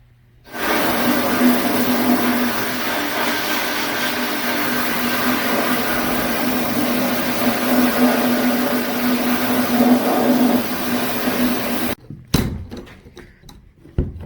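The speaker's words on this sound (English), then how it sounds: "Now what I'm going to do is throw this in the sandblaster just so it all has the same finish" A sandblaster blasts a fuel cell part, a loud, steady, rushing hiss that starts abruptly, runs for about eleven seconds and cuts off, followed by a few clunks.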